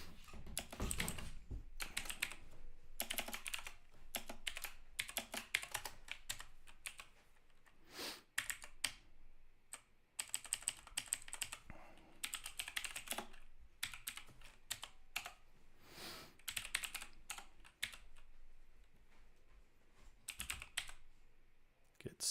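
Code being typed on a computer keyboard, with bursts of close, clattering keystrokes broken by short pauses and some quiet speech in places.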